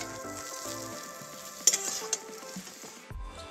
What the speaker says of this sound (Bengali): এই যে এইরকমভাবে আমি হালকাভাবে বেগুনগুলোকে ভেজে নিয়েছি